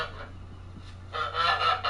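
A goose lets out a loud, harsh, nasal honk in the second half, preceded by quieter background noise and a low steady hum.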